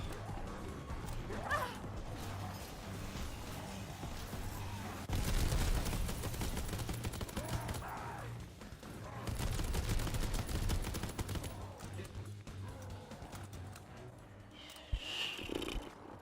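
Bursts of rapid gunfire in a WW2 zombies video game, two long loud volleys over steady game ambience and a constant low hum, with a brief sharp shot near the end.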